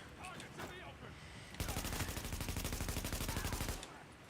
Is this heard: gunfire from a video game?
yes